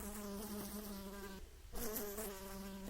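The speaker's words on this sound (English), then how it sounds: "he was awakened by a buzzing fly" A fly buzzes close by in a quiet room, its whining drone wavering in pitch, cutting out briefly partway through, then returning.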